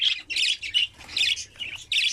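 Pet budgerigars bathing in a shallow water dish give repeated loud, harsh squawks and chirps in short bursts, fairly close, with no voices.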